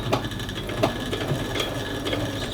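Sewing machine running a short back stitch on a simple skirt with elastic, a quick series of mechanical clicks and whirring close by, no talking.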